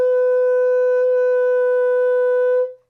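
A single sustained G sharp on an alto saxophone, held steady and clean for over two seconds before tapering off, played close and alone.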